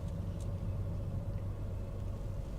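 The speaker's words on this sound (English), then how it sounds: "There's so much traffic on Ocean Boulevard, especially in the summer" Steady road traffic on Ocean Boulevard in Myrtle Beach in summer, a continuous low engine rumble of passing cars and buses heard from the roadside, fairly constant with no speech.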